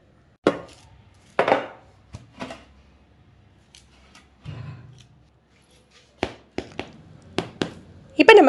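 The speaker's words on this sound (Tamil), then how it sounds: "கத்தியோட பின்பாகத்தை வச்சு நம்ம கட் பண்ணி விட்டுக்கலாம்" A knife taps and presses through buttered garlic bread using its blunt back edge, sharp separate knocks and crunches spaced irregularly, with short quiet gaps and soft rustling between them.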